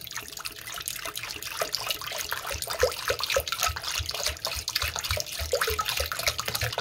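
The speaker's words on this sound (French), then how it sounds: "Et donc, on va verser 600 g d'eau." Water poured steadily into the bowl of a cooking appliance up to 600 g, a continuous close splashing trickle with a soft liquid rush and no talking.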